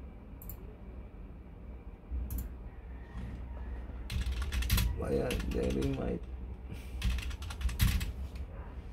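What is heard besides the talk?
typing on a computer keyboard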